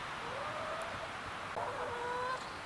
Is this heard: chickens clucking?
yes